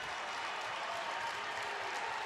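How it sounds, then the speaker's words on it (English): Cr Xavier high school football fans cheering and applauding during an Iowa playoff game, a distant, steady crowd roar under the stadium ambience. "The Xavier crowd rising as one."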